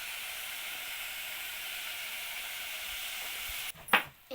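Chicken coated with salt, chilli powder and spices sizzles steadily in a pan, a continuous close frying hiss that breaks off near the end with a couple of stirring scrapes.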